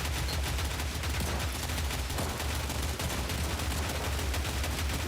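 Rapid, continuous gunfire from a Godot-made video game, a dense unbroken volley that holds steady loudness for several seconds with no voices.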